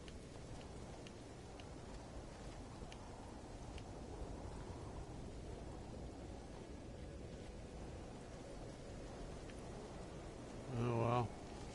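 Stormy weather in No Man's Sky gives a low, steady rumbling rain wash throughout, with a brief louder tonal burst near the end.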